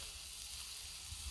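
Sausages sizzle on a flat griddle while making a breakfast sandwich, a faint, steady hiss of frying fat with a low background rumble, continuous and without talk.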